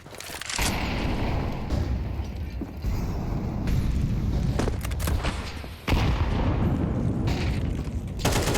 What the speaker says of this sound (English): Oh, flashbangs.